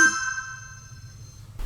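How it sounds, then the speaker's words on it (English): Lemfo DT79 smartwatch notification: one bright, cheerful chime struck at the start, ringing out clearly and decaying smoothly over about a second and a half in a quiet room. "The DT79 has a very weak vibration, but a rather cheerful notification sound"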